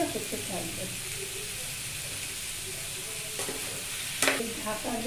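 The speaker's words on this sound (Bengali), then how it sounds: "এবারে চিকেনগুলো দিয়ে দেবো। এটা এখন কম আঁচে হতে থাকবে।" Chicken pieces frying over low heat with capsicum, onion, tomato, ginger and garlic, a steady close sizzle with stirring and a few sharper clatters, while a voice speaks quietly underneath.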